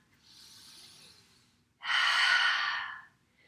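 A slow, airy inhale during a gentle yoga flow gives way to a fuller, louder exhale that rushes out for about a second before trailing off. The breathing is close and quiet, with no talking.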